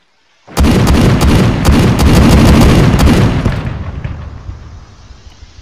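An M82A1 heavy sniper rifle, the older M107, fires in a modded military shooter game: a very loud series of rapid booming shots over about two and a half seconds, then a long rumbling echo that fades out.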